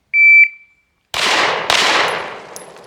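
Two sharp handgun shots fired in quick succession during a sight-alignment drill, each a loud close crack with a decaying tail, preceded by a shot-timer beep.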